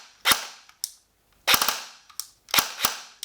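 A Saigo Defense Ronin airsoft AEG with a short barrel firing in sharp, loud bursts, about four clusters of snapping shots separated by brief quiet gaps, no talking.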